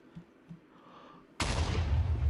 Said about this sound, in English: let's set it off and take a look and see if the explosion's been changed